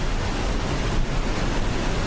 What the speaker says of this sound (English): The noise of this water would be loud.